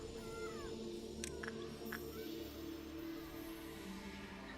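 Cats meowing in the video game Lobotomy Corporation, with a few short, faint mews rising over a steady hum of game background sound, and no talk.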